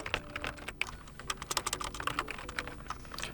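Rapid keystrokes on a computer keyboard while entering a city name into an online lost-device form for a POCO F8 Pro, a close, uneven run of crisp clicks with short pauses and no talk.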